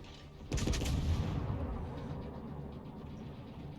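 A single heavy naval gun salvo booms out in World of Warships, fired against the Soviet cruiser Moskva, with a sharp onset and then a long rumbling decay over the battle noise.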